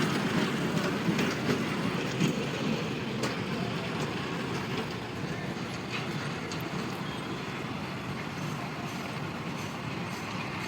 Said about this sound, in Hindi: ये बच्चे देखिए ट्रेन चल रहा है